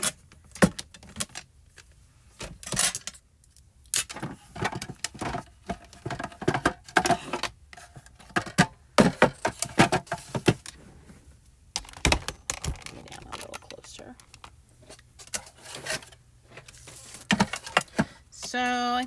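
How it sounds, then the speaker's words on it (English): A decal trimmer slices through a card background, giving a run of sharp, close clicks and scraping swipes in irregular bursts, with quiet gaps between cuts. "I'm going to cut that with the decal trimmer"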